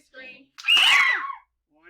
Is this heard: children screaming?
yes